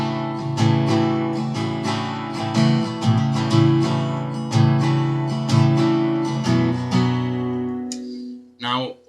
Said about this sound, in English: you need to take your middle finger off the A string and hammer it back on to the 2nd fret.